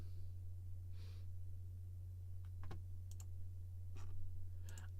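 Sharp, sparse computer mouse clicks, a handful of quiet isolated taps spread out over a steady low electrical hum, with no talking.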